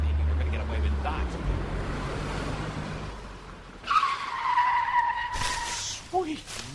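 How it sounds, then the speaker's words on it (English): A car skids with rising tire squeal and engine noise, then crashes into a bush, the squeal lingering before a brief rustle at the end; loud, near, with voices around. "Who drives a car into a bush?"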